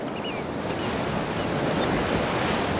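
Surf washing against a rocky California shoreline makes a continuous rushing roar with some wind noise, steady and close, with no voices.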